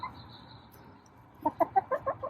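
Backyard garden chickens clucking nearby, a soft low murmur followed by a quick run of about six sharp, rhythmic clucks.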